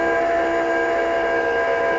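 Steam hissing steadily from an auto rotating tumbler heat press at 370 degrees during sublimation, a continuous close, fairly loud hiss with no gaps for the whole stretch.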